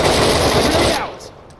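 Rapid automatic gunfire in the tactical shooter Door Kickers 2, a loud close burst that stops abruptly and leaves a short fading tail.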